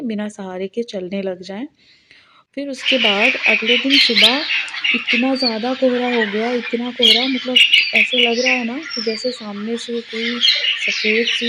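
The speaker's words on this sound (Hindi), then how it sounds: "कितनी सारी चिड़िया की चहचहाने की आवाज़ आ रही है" Birds chirp and squawk at the start of a foggy village morning, then a dense chorus continues steadily behind someone talking loudly up close.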